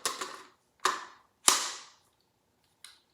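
Magazine handled and seated into an AK-47 rifle: a series of sharp metallic clacks and snaps, close and crisp, with short gaps between them and a final faint click.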